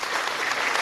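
A brief burst of dense applause from a group, steady loud clapping with no pauses, lasting under a second.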